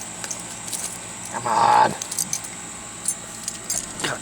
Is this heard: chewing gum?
no